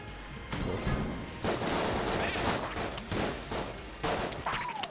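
Rapid overlapping gunfire from a gun in the video game Enter the Gungeon, a dense fusillade of shots in several loud bursts separated by brief pauses.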